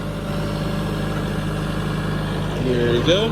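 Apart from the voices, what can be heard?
tractor pulling Brilliant seed drill, gears and chains whining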